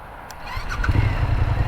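A Suzuki V-Strom motorcycle engine fires up close by and settles into a rough, low rumble after a brief starter whir.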